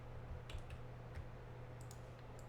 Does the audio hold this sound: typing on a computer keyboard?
yes